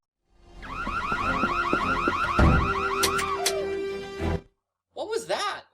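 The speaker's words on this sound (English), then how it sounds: "Who turned off the alarm?" A car-style alarm blares in the Nancy Drew game Secrets Can Kill Remastered, a loud warbling siren that cycles steadily for about four seconds before cutting off, followed by a short burst of other sound.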